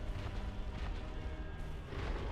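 A dragon's explosion in Dark Souls, heard as a dense, rumbling low roar that fills the clip with continuous booming noise and no distinct separate blasts.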